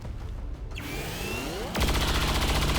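Gunfire in the XCOM 2 video game: a rising whine sweeps up, then a loud, sustained burst of shots with a broadband blast cuts in and fills the rest of the clip, with no talk.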